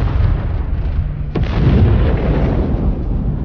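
A bridge blown up in a scene from the Hindi film Dhamaka: one sharp, heavy blast cracks out of a deep low rumble, then a thick, lingering roar of debris and aftershock rolls on, loud and close.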